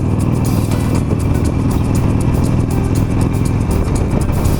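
A sixteen-year-old Harley-Davidson Nightster motorcycle roars loud and close as it pulls up through the gears into fourth, its engine drone steady and unbroken under a constant rush of wind noise.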